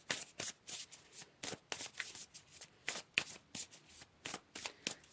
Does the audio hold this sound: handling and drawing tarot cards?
yes